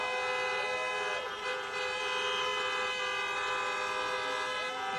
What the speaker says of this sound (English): honk for your next United States Senators, John Ossoff and Reverend Raphael Warnock.